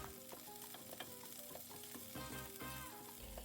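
Pork fries in a pan for Cuban fufu, giving a continuous crackling sizzle with soft clinks of stirring throughout, close and unaccompanied by talk.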